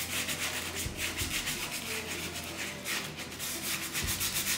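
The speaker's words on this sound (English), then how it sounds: "Again, just sand it really light." Hand sanding of chalk-painted wooden furniture, a steady rhythmic back-and-forth rasp of sandpaper on the painted surface, close and continuous with no talking.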